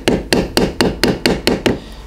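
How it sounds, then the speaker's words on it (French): An ivory hammer taps the stitched seam of a leather knife sheath. Nine crisp, evenly spaced blows land close up, about four per second, with nothing else underneath. "Je vais maintenant donc taper la couture avec le marteau ivoire."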